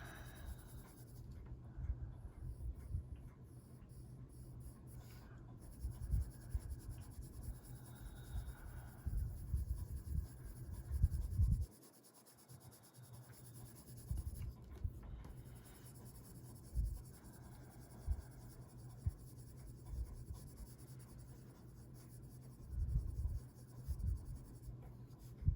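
A white Prismacolor colored pencil shades on paper in soft scratchy strokes, faint and close, with irregular bursts and brief pauses.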